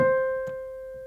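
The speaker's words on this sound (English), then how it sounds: "then our next C would sound like this" One higher piano C note, an octave above middle C, sustains steadily, fairly soft, with a faint click partway through as it slowly decays.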